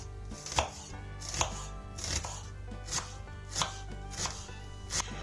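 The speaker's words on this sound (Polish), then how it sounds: "Cebulę kroję na pół i w kostkę." Knife chopping an onion into cubes on a board, six evenly spaced crisp strikes at a steady rhythm, close and clear over a low background hum.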